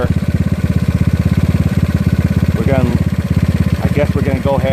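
A GY6 scooter engine with an OKO PWK 30mm carburetor throbs close and loud in rapid pulses, its pitch climbing as it revs during carburetor tuning, with brief rising whines near the end.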